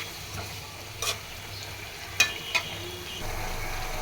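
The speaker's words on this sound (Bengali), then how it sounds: "তাই মাছ ছেড়ে দিয়েছি।" Fish frying in oil spiced with turmeric, chili, coriander and cumin, with tomato and coriander leaves, a steady sizzle broken by a few sharp spatula scrapes and stirring clicks in a home kitchen.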